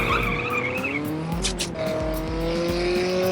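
Car engine and tire squeal in the drag racing video game CSR Classics: a loud, high revving engine with gear changes and a short burst of skidding squeal, close and continuous, no talk.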